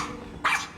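A dog named Diamond gives a single short bark, brief and fairly close, against a low steady background.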